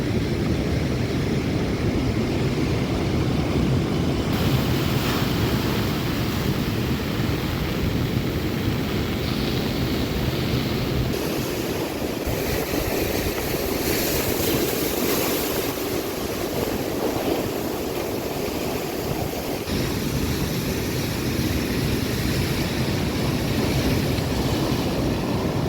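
Rough sea surf pounding the shore at Puducherry, a continuous loud wash of breaking waves with surges and roaring broadband rush throughout, no voices.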